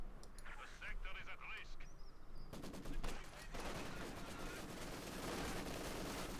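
Machine gun fire in the Company of Heroes 2 battle game, with rapid bursts of shots and heavier gunfire crackling continuously over dense combat noise while a commentator talks over it.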